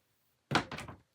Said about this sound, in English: Sorry, knocking my board down